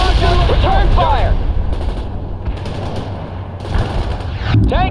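Dense automatic gunfire and heavy weapon bursts in a World in Conflict battle, loud and continuous for several seconds with sharp pops and booming impacts, under shouted radio chatter.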